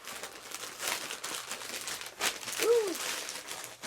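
A wrapped package is torn open, its wrapping crinkling and rustling steadily for several seconds at close range, with a short voiced sound near the end.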